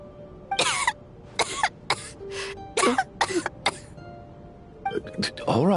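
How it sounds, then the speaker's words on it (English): Character coughing during a Genshin Impact story scene: several rough, bursty coughs in a row, fairly close, with brief pauses, and voices speaking around them. "How long have you had that cough"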